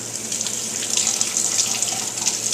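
Asparagus spears rinsed under a running kitchen tap, a steady close hiss and splash of water pouring continuously into the sink without pause, with no talking.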